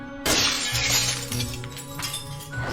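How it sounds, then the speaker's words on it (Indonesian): A mirror shatters with a loud, sudden crash of breaking glass, followed by a dense spray of tinkling shards and bright clinks over the next couple of seconds, close and sharp, with no talking. "Sial, cerminnya pecah."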